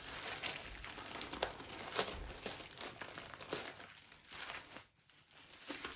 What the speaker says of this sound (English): So I'm going to open up one of these packages.